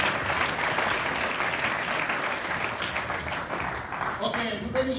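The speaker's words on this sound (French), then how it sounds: "put our hands together." A church congregation applauds at a wedding service, steady dense clapping from many hands filling the space throughout, loud and continuous without pause, easing slightly toward the end.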